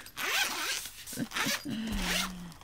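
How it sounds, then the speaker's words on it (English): Zipper being pulled open along an old school binder, a long series of close, raspy scrapes with short pauses, a low hum running underneath toward the end. "I have one of these old school binders with the zipper"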